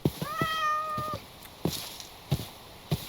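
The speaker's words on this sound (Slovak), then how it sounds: "Mačka." A cat in the horror game Dread Reborn gives one clear, drawn-out meow near the start, followed by a few soft thuds and quiet ambience.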